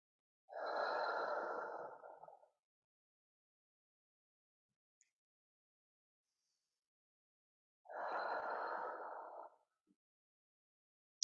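Two slow, deep breaths during a yoga forward fold in a beginner Hatha class, each a soft airy exhale lasting about two seconds, close and quiet, separated by several seconds of near silence.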